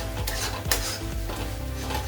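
Spices are stirred into cashew paste in a pan on the stove, a close scraping and rubbing of a spoon against metal under a constant sizzling hiss, with a few light clinks.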